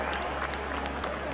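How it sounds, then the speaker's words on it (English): Crowd of many people cheering and clapping in a vast auditorium for an audio drama, a dense steady wash of applause and roar that fills the whole short moment without a break. "A thunderous roar of cheer and claps filled the vast"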